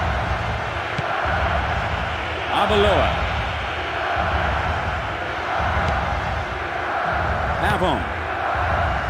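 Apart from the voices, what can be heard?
stadium crowd in the video game Winning Eleven 9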